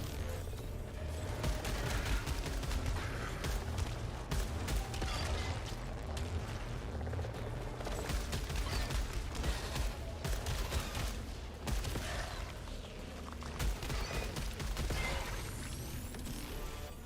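Enemy gunfire in the Returnal video game, a dense, continuous barrage of rapid shots and mechanical clatter running throughout at steady loudness, with no talking.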